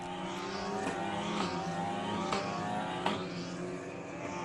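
F4 MK20 race cars run single file behind a Ginetta safety car at NOLA, a steady layered engine drone with several cars droning together at moderate distance, no sharp passes.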